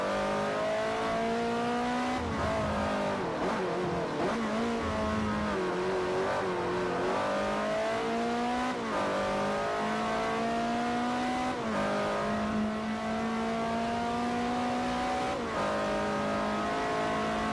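Race car engines in Forza Motorsport 4 on Xbox 360, loud and continuous, revving up and down through constant gear changes with occasional tire squeal, no voices.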